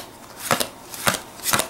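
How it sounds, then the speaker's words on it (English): Knightmare Chess playing cards being shuffled into a deck, three distinct riffling bursts evenly spaced, close and crisp in a quiet room. "they've been shuffled into a play deck"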